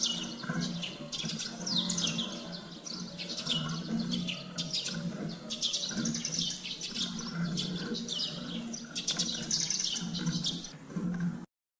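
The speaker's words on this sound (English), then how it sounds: "Sparrow." Sparrows chirp busily and continuously, many quick overlapping tweets layered over a steady outdoor background murmur.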